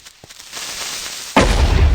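A brief hiss builds up, then a sudden loud boom bursts out and rumbles to the end: a Minecraft creeper exploding.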